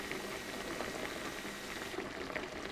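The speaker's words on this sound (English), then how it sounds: "There's even bubbles coming out through the top now." A carburettor from a Yamaha Virago XV1000 sits fully immersed in cleaning fluid, giving off a dense, continuous fizz of fine bubbles like a gentle boil, close and steady.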